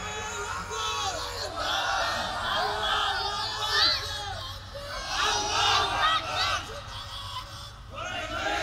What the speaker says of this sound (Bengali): একটা তাকবীর ধরেন